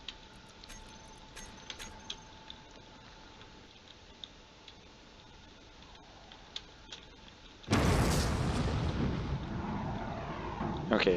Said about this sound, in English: there are a lot of missiles going in